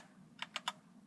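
Three quick, crisp keystrokes on a second computer keyboard, close and evenly spaced within about a third of a second over a quiet background hum.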